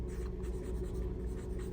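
Steady scratching of a 0.5 mechanical pencil on MUJI notebook paper, close and continuous, with soft strokes repeating under a low room hum.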